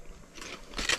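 Crunchy jalapeno Takis chips bitten outdoors at a winter hot-tent camp, two quick crisp crunches close to the ear, the second louder, with no talk.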